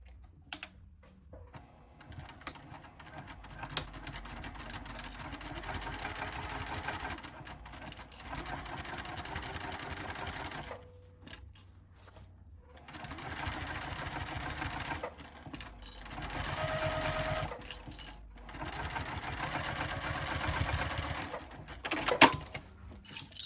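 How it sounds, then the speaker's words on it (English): A sewing machine stitches a bag opening closed near the edge, running in steady rapid bursts with brief pauses between runs, close and fairly quiet. "You'll sew the opening closed about 1/16 of an inch from the edge."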